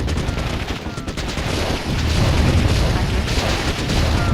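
Rapid gunfire and booming explosions as units assault a base in the Warzone 2100 strategy game, dense rattling bursts layered with heavy blasts, while a voice speaks over the battle.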